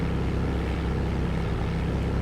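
Propeller airplane droning steadily in flight in the FlightGear simulator, a continuous loud engine and airscrew hum with a low tonal buzz and no breaks.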